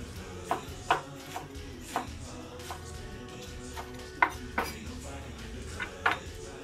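Knife tapping a cutting board as spinach stems are finely chopped, a scattered series of sharp, close clicks and knocks with uneven gaps over a faint kitchen background.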